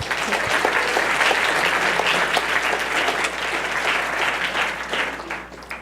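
An audience applauding to welcome a speaker at a lecture on the geometry and topology of weavables, wearables and wallpaper: dense, sustained clapping from a crowd that fades near the end.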